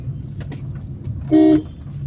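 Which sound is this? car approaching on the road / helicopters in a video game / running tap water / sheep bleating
car approaching on the road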